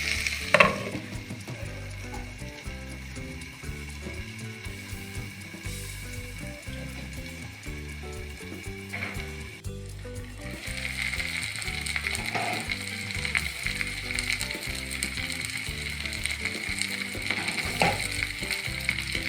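Brinjal and broad beans sizzle steadily in a hot pan, a constant frying crackle with occasional stirring scrapes, growing a bit louder partway through.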